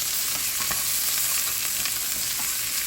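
Bell peppers sauté in leftover sausage residue in a pan, a steady, close, loud crackling sizzle with faint stirring clicks running throughout.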